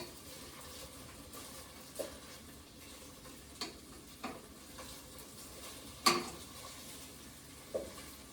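Onions browning in a pan for Christmas lasagna give off a faint, steady sizzle while being turned, with a few soft scrapes and clinks of the utensil against the pan and no talk.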